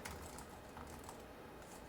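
Key clicks from typing on an HP TouchPad Bluetooth keyboard, a quiet, steady run of soft taps with no voices.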